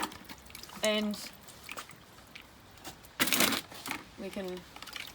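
Weak seaweed solution drains from soaked coriander seedlings in a short burst of splashing and trickling water, set between stretches of a person talking.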